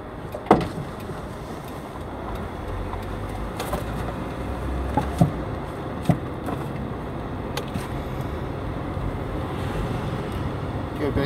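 Car driving along on the way to a job, with a constant low road rumble and buffeting wind noise on the microphone, a few sharp knocks over the steady drone and no talking.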